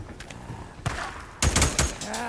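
Gunfire in the video game Days Gone, delivered as sharp bursts of rapid shots in two clusters over about two seconds, loud and close against a background hum.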